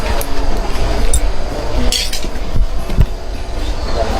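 Glass clinks and knocks a few times over a loud, rumbling outdoor background, the sharp chinks coming singly and irregularly.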